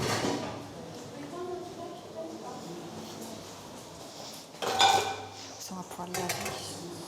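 Cooking pots and pans clatter in a prison kitchen at a large women's prison, with metal clinking and cutlery rattling close by, then a louder bang of cookware near the end while people talk in the background.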